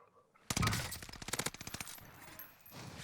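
Call of Duty Warzone gunfire on Fortune's Keep, a sudden loud shot followed by a rapid burst of automatic fire that tapers off, close and alone without talk.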